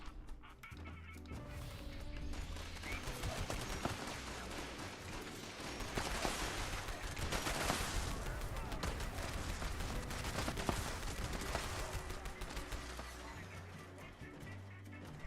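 Dense, continuous explosive-bullet gunfire from the Fallout 76 video game, a loud sustained barrage of overlapping blasts and crackling impacts that runs for the whole stretch with little pause.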